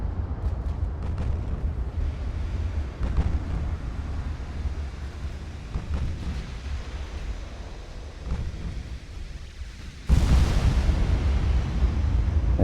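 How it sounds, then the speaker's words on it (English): Heavy naval guns booming in the Ultimate Admiral: Dreadnoughts warship game, deep rumbling blasts over continuous sea and wind noise, with a sharp loud report near the end. "Heavy guns. Big hit, stern belt extended."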